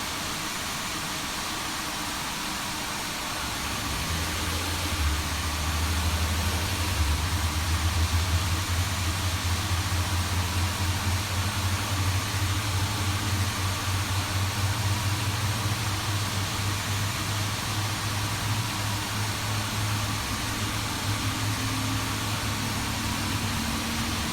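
An Airbus A350 jet engine running on the ground while the aircraft is parked, rising after a few seconds into a loud, steady roar with a low droning hum that holds without a break.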